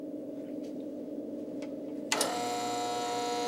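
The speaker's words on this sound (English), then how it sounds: "After choosing the proper strength lens, Jim uses a bevel edger to custom cut the lens to the specific frames the customer has chosen." A bevel edger machine starts cutting an eyeglass lens to fit a chosen frame, a steady whirring grind with tonal lines kicking in abruptly partway through, over a low constant room hum.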